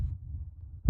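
A heartbeat sound effect in a romantic drama scene gives a low, muffled throbbing pulse, then one heavier thump near the end, with no voices.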